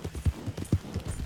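A large carriage horse's hooves clop along in the city of Saint Denis in the video game Red Dead Redemption 2, a short, even run of close, hollow hoofbeats.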